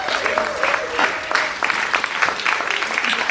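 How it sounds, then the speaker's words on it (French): A church congregation claps together in a sustained burst of applause, a dense crackle of many hands that swells and holds steady, with a few voices mixed in. "Est-ce qu'on peut acclamer les Seigneurs pour sa vie?"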